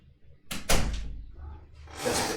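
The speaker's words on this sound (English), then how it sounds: "The cat's throwing herself against the door to come in." A cat throwing herself against a closed door to get in, producing a couple of close, hollow thuds and rattles of the door, with a faint voice nearby.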